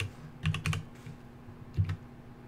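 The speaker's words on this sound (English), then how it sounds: "We can type in crude." Keys clatter on a computer keyboard while someone types a crafting item name into the Everquest game. Two short bursts of quick keystrokes come close and soft over a low background hum, and no one speaks.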